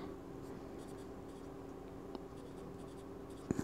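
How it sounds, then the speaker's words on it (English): Quiet pen scratching on a small label for an ink sample vial, soft continuous strokes with a couple of faint taps, close and intimate. "So I'm going to just write right on it"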